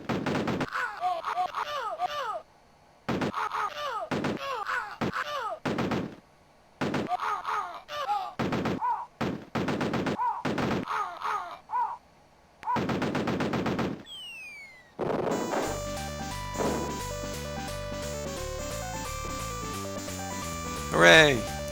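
Rapid bursts of digitized gunfire from a DOS-era shooter game stutter in repeated volleys with brief gaps, then give way to synthesized game music and effects, with people talking over the top.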